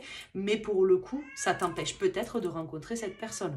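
A cat in heat meows and wails in drawn-out, tonal cries, heard under someone talking in French.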